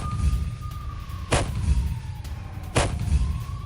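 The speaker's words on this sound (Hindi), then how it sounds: "शक्तिशाली T-14 अमाटा टैंक से बरसाए गोले" Two loud, sharp blasts from a Russian T-14 Armata tank firing shells in a combat zone, spaced about a second and a half apart over a constant low rumble and a faint high whine.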